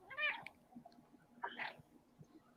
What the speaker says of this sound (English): I hear a cat